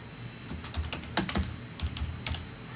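Computer keyboard typing with scattered crisp keystrokes at an uneven pace, close and clear, with no talking.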